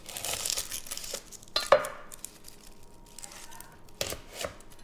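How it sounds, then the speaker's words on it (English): A knife cuts through a large onion on a cutting board, with a few crisp slicing and crunching strokes separated by quiet pauses, close and fairly soft. "Next up, let's chop an onion."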